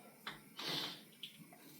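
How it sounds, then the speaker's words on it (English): Water stirred in a pot with a boiling egg, a few soft close swishes and splashes, one broader swirl in the middle, over a faint background hiss. "So we'll give it another final stir, like that."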